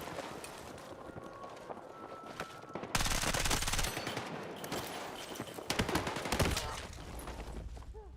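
Vector submachine gun fire in the shooter game Battlefield 6, loud rapid automatic bursts in two long strings, with scattered battlefield noise between them.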